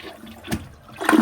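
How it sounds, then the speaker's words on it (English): A manufactured-home toilet, recently unclogged, flushes in a short burst of rushing water that swells loudly at the end, heard alone up close. "Let's see how well it flushes now."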